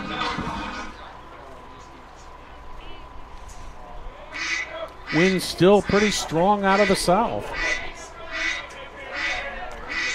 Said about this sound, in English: Ducks are flying over.